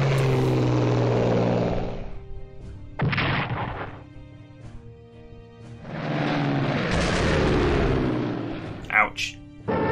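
Interceptor aircraft in the strategy game Strategic Command WWII, with loud bursts of roaring engine and explosive rumble that swell, drop away and return over a sustained droning tone.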